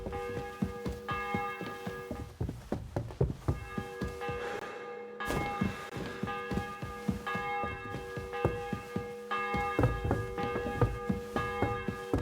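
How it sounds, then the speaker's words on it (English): A church bell tolls repeatedly in the medieval video game Kingdom Come: Deliverance II, its resonant strikes ringing out loud and close over a busy, rhythmic background of crowd and town noise, with a short silent gap midway. "The 11th toll of the bell."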